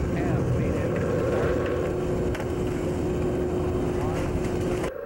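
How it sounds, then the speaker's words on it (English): Space Shuttle Atlantis main engines ignite before liftoff, a loud, steady roaring rumble with a sustained tone that holds for several seconds before cutting off abruptly. "We have a go for main engine start"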